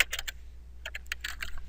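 Typing on a computer keyboard: a short burst of keystrokes, a pause, then a longer run of quick clicks, close and distinct over a faint low hum, no speech.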